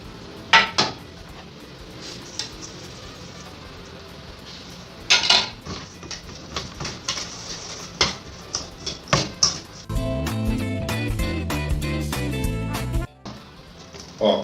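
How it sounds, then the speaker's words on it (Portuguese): Butter and powdered sugar beaten into a cream for a lemon tart dough: sharp clinks of a utensil against a bowl, then a steady, buzzing whir of beating for about three seconds, close and loud. "eu vou misturar a manteiga com açúcar de confeiteiro e vou bater até ficar um"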